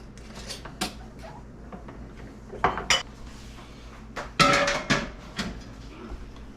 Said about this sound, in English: we need to take and clean off the top of the jar, and then we need to put our lids and rings on